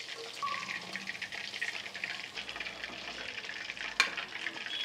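Garlic kabab with curry leaves frying in hot oil, a steady bubbling sizzle with crackles and stirring, close and moderately loud, with a sharp clink near the end.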